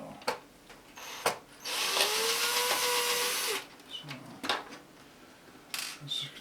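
A screwdriver whirs for about two seconds while backing screws out of a National RX-5100 tape deck, surrounded by clicks and handling knocks.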